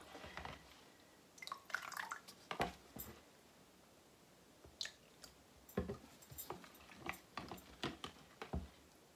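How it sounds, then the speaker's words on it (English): Rit dye liquid dripping off a spoon back into a dye bath during fabric dyeing: faint, quiet drips and small wet splashes landing irregularly, several in quick clusters, with no talking. "as I'm letting that drip off the spoon"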